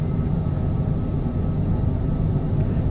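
A Cessna CJ4 business jet rolls for takeoff in Microsoft Flight Simulator, its engines a steady, dense low roar that holds level throughout, loud and unbroken, with no talking.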